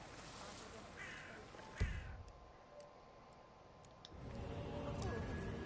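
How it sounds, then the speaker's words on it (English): Crows caw in a game's manor grounds, a few harsh calls amid a noisy outdoor ambience with a sharp thump partway through. "It's the birds. They're making a racket"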